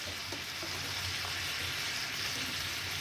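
Hilsa fish and pumpkin leaves sauté in oil in a pan, giving a steady, close, continuous sizzle and hiss with faint stirring scrapes and no talking.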